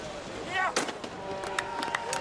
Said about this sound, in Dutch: Ja, daar heb je het schot.